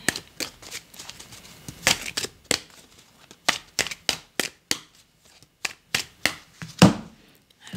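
A deck of tarot cards is shuffled and cut by hand, a run of sharp, close, irregular slaps and riffles with short pauses between them, loud and alone without speech.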